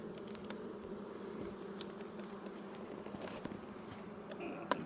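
Honeybees hum around a hive stacked with two boxes, a faint, steady buzz broken by a few soft clicks and knocks.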